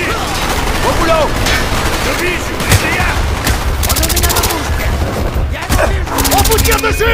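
Sustained bursts of automatic gunfire and explosions in the Call of Duty: Black Ops campaign, loud and dense throughout, with in-game voices calling out over the shooting.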